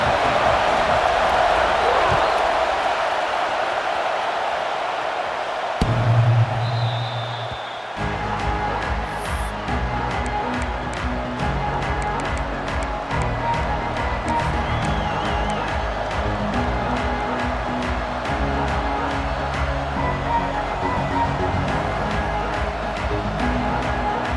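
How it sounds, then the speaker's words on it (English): Stadium crowd roar in EA Sports College Football 26, a steady dense wash of cheering that runs throughout with a brief surge around the middle, mixed under game sounds and commentary. "It's early, but this crowd is fired up. Listen to this noise here."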